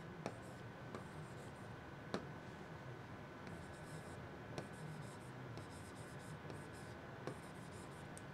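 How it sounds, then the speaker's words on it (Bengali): Chalk or marker strokes on a classroom board while a mnemonic rhyme is copied out, faint and intermittent, with sharp taps and short scratchy runs spread over a steady low room hum. "আমি লিখে দিচ্ছি"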